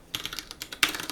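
Fingers type on a computer keyboard in a quick irregular run of about ten crisp close key clicks, a louder cluster near the end, with no speech.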